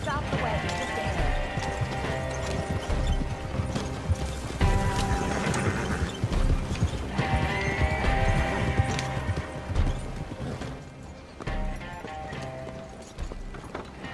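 Horse-drawn wagon in Red Dead Online, with hooves clip-clopping steadily, wooden wheels creaking and rattling, and occasional knocks, loud and close, while people talk over it.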